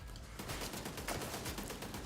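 Shot cannon gunfire from the game The Division 2, fairly faint and distant, with rapid repeated blasts in a steady rolling pattern throughout.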